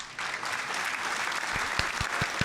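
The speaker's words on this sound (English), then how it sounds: "Let's get some claps in the chat." A short burst of applause plays as a sound effect on a livestream, a steady clapping wash lasting a couple of seconds with a few sharper individual claps near the end.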